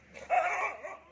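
A single short dog bark, close and clear, with no other sound around it.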